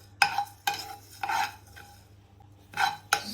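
A spoon scrapes and stirs coriander, cumin and fenugreek seeds dry-roasting in a pan, in several distinct rasping strokes separated by short pauses, close and fairly loud.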